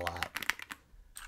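Keys typed on a Redragon Eisa Max gaming keyboard, a quick cluster of clacky, sharp strikes close up, followed by a brief pause and one last soft tap.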